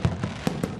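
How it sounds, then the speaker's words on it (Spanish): Fireworks bursting over Budapest on St. Stephen's Day above the Danube, heard as a quick series of four sharp pops and booms within under a second, loud and fairly close. "Fuegos artificiales, petardos, láseres y drones iluminaron el cielo de la capital húngara."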